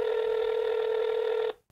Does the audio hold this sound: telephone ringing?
yes